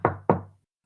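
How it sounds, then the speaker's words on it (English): Two sharp knocks on a door, spaced about a quarter second apart, close and clear, followed by silence. "you hear a knock on your door"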